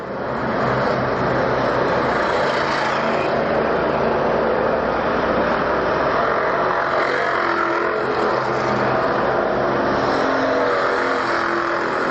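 Race car passing close on an oval speedway during a 150-lap enduro championship, a loud sustained engine roar that swells and fades with continuous traffic noise throughout.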